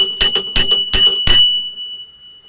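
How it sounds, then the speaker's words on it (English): A small bell rung as a celebration, several quick bright rings in a row followed by a lingering metallic ring that fades into silence, loud and close. "And Owen gets the bell ring."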